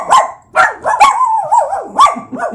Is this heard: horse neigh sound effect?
no